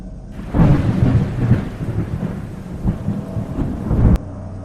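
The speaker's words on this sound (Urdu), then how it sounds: "بارش اب بھی جاری تھی" Steady heavy rain hissing down through a thunderstorm, with loud rolling thunder rumbling throughout and a sharp crack near the end; no voices.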